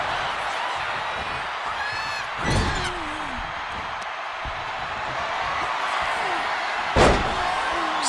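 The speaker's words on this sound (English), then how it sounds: "Slamming their opponent into place." Video game wrestling in WWE 2K26 with a cheering arena crowd, two sharp slams of a wrestler hitting the mat, one a few seconds in and a louder one near the end, with commentary-style voices throughout.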